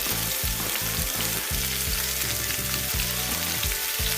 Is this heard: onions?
yes